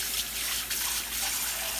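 Tap water runs into a sink over dishes, making a short, steady splashing gush close by with no talking.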